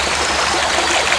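White water rapids rush steadily through a river between calm pools, a loud, continuous broadband roar of churning water up close with no break.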